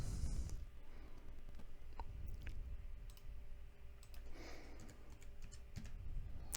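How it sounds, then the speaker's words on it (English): Computer keyboard typing in short bursts of clicks and taps, with separate keystrokes such as the enter key after each dimension is typed, close and fairly quiet against a soft room background. "Just hitting enter after I put each dimension in"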